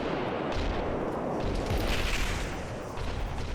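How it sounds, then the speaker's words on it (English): Bolter guns and hotshot lasguns in a video game fire at a Valkyrie aircraft, heard as a continuous dense barrage of blasts and gunfire at steady loudness. "So I think these guys are firing at, this Valk right here. It's the bolter guns and the hotshot lads"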